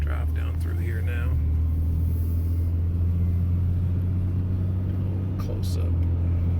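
A car drives slowly through Levi Jackson Park near the pool, its engine a steady low rumble throughout with faint voices murmuring over it.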